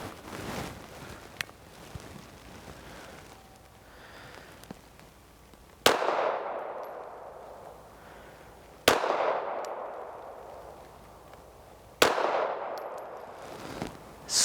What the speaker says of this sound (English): So we're out here with our Ruger 380 Lite Rack, and we are going to do our 3-shot accuracy test